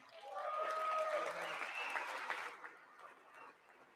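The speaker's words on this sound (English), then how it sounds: "I wasn't sure if anybody, even on this side, was going to applaud for that." Loud audience applause fills the chamber during a State of the Union address, a dense clapping roar with scattered voices that peaks early, then thins and fades toward the end.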